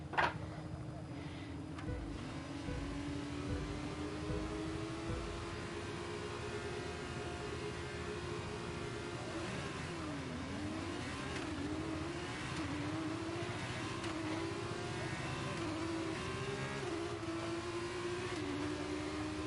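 Formula 2 cars in the F1 23 video game at the Bahrain race start, a dense, continuous roar of revving engines rising and sliding in pitch, with pack noise around.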